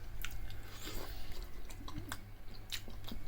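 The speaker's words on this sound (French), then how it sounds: "comme vous voyez le résultat, ça croque" Freshly made homemade fries, cooked in a Cookeo Extra Crisp, chewed up close with crisp crunching bites and soft squishy mastication over a low steady hum.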